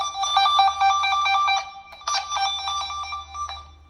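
Warbling electronic tone from a wire toner wand traced along speaker wires for a 5.1 Polk Audio surround sound setup, two bursts of rapid trilling beeps separated by a brief pause, loud and close.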